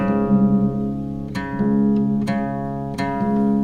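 An acoustic guitar is retuned to open D minor. Sustained strings ring out alone while a few sharp plucks at a steady interval repeat as the pitch is adjusted.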